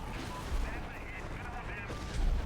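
Gunfire in the 2009 video game Prototype, a dense, continuous rattle of shots with a heavier burst near the end, mixed with game noise and a voice underneath.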